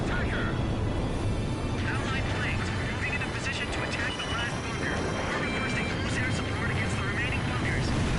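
Allied warplanes in Ace Combat 5 fly in to attack the last bunker, a dense, steady engine roar that stays loud and close throughout, with voices faintly mixed into the din.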